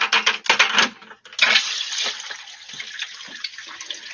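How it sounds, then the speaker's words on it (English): Water splashes and gurgles into a bucket from a tap, a loud initial rush settling into a steady fill with small clinks, close by and alone. "I'm gonna fill this bucket up with some water"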